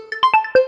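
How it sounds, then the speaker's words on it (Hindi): A phone ringtone plays a short, bright electronic melody of a few quick tonal notes, loud and close with nothing else underneath. "कितना बार फोन आ रहा है"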